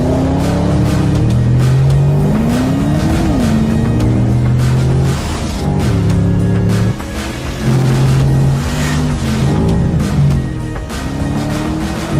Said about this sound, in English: Our test driver Lars Kahn recently drove the car at the Nürburgring and showed what the new Panamera is capable of.